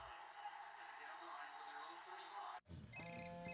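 A telephone rings in a television commercial, its bright electronic tones starting sharply and repeating after a moment of quiet, loud and close, following a stretch of speech and background sound.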